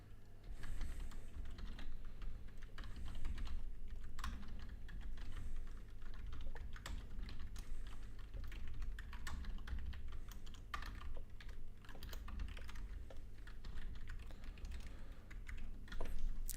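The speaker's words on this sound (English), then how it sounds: "if I can type" Steady, continuous typing on a computer keyboard, close and clear, with rapid irregular key clicks running throughout and no voices.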